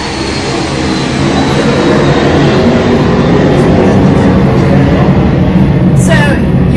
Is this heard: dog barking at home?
no